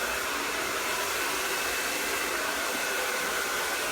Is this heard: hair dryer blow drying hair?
yes